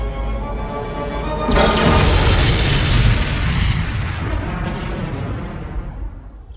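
Spaceship weapon fires with a sudden sharp blast that swells into a huge rumbling explosion, loud and close, then a long decaying roar fading out.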